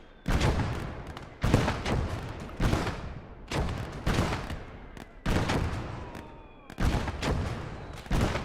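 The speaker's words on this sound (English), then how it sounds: "Oh, something is firing on my guys." Heavy gunfire and booming artillery blasts in a Battle of Stalingrad war game, arriving as about seven loud, repeated volleys that each flare up and then fade into a steady din of battle.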